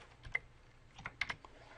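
Brief clicks of keys tapped on a computer keyboard while entering an equation in Microsoft Word, a few light separate presses and a short quick cluster, quiet and close with no voices.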